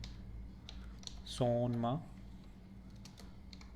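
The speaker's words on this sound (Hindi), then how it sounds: "गूगल में हम टाइप करेंगे" Faint, scattered clicks of typing on a computer keyboard into a Google search, sitting under someone speaking briefly in Hindi.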